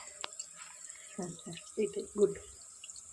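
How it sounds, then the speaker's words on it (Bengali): Tap water runs into a kitchen basin while mushrooms are rubbed and washed in it, giving soft intermittent splashes and trickles close by, with a short spoken phrase over them. "এবারে এই যে মাশরুমটাকে আমরা এইভাবে বেসিনের জলে চটকে চটকে ভালো করে ধুয়ে নেব।"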